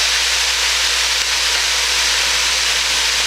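Sweet peppers cook in a pan for homemade goulash, giving a loud, even broadband hiss of sizzling that holds steady throughout with no talking.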